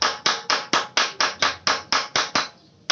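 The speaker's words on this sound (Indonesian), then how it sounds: "kita kuncikan dulu dengan cara memukul seperti ini" Roughly a dozen sharp, evenly spaced hammer blows strike a socket to lock it in place on a scooter that fails to start, each hit ringing briefly before a short pause at the end.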